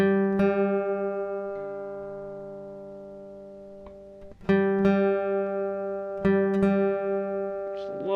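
Two guitar strings struck together while one is lowered to match the note on the D string, ringing sustained tones that slowly fade before being plucked again twice, alone and close.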